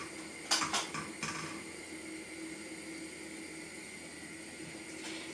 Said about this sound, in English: I'm going to chop my mushrooms.